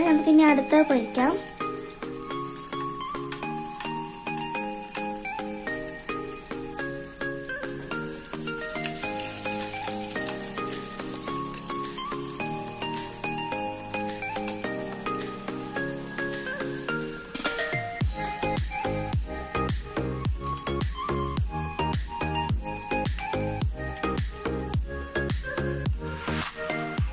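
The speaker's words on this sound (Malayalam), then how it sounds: "നമുക്ക് ഇനി അടുത്ത പൊരിക്കാം." Slices of bread spread with Nutella fry in hot oil, a steady sizzle running throughout beneath loud background music that grows busier near the end.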